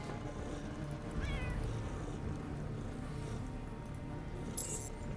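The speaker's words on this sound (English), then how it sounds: "I'm surprised how realistic the purring sounds." A cat purrs softly in the video game Underrail, a faint, low, continuous rumble with one brief chirping meow and a light metallic jingle near the end.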